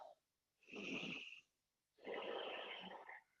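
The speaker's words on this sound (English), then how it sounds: "we're finding the Ujjayi breath. This is this awesome yoga breathing technique." Ujjayi yoga breathing through the nose during a gentle flow session: two long, hissing, throaty breaths, one inhale and one exhale, close and steady with a short pause between them.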